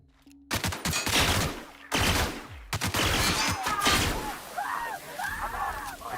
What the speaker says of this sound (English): What kind of gun is this?